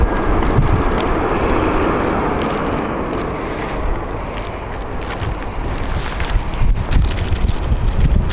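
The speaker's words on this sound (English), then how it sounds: "Our wind is picking up now." Strong wind buffets outdoors at Edinburgh Airport in loud, continuous gusting roar and rumble that swells and eases, with no voices.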